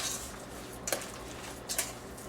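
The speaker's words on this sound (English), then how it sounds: "put this couple of tablespoons of milk, and then just mix it like this" Ground beef meatball mixture stirred with a couple of tablespoons of milk in a bowl, with two light clinks of utensil against the bowl over quiet mixing.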